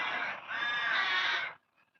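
A crow gives a single drawn-out, hoarse caw lasting over a second, clear and fairly close, then falls silent.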